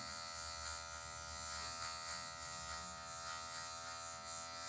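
Electric hair clipper buzzing steadily at close range as its tip cuts hair during a zero-guard mid fade, a continuous motor hum with slight fluctuations and no talking.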